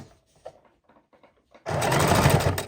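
A sewing machine stitches around a fabric placemat, a steady fast whirring run that starts abruptly after a stretch of faint handling clicks, close and fairly loud.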